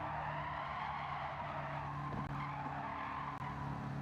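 Tires screech and skid in the Gran Turismo 7 racing game as a car pushes its front tires, a sustained faint squeal over a steady engine drone with no talk.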